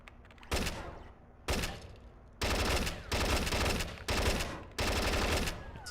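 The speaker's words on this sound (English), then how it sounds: "It's a turret." Heavy automatic turret fire in the stealth game Splinter Cell: Chaos Theory comes in loud, dense bursts of about a second each, separated by brief lulls, close and booming.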